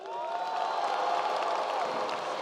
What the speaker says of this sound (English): give yourself another round of applause